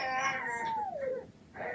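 A cat meows once in a long, drawn-out, falling cry, close and fairly loud, with a shorter wavering meow following at the end.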